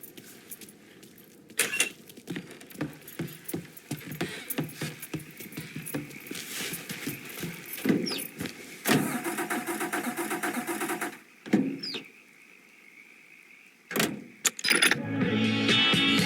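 Car keys jingle and a car engine starts in the Mafia III video game, a busy layered mix of rattles and motor noise that breaks off in short pauses near the end.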